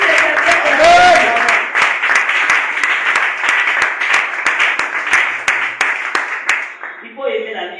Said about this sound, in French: Est-ce qu'on peut acclamer pour le gloire de Dieu?